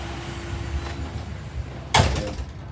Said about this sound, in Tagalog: Okay, sara na lang itong pinto.